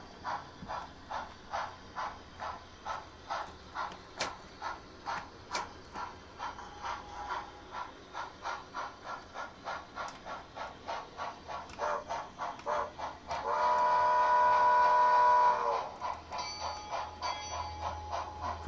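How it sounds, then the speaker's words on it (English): A model railway steam locomotive chuffing with a steady rhythmic puffing that slowly changes pace, joined partway by a sustained whistle-like tone for a couple of seconds, faint and alone. "we'll get the steam locomotive come around here."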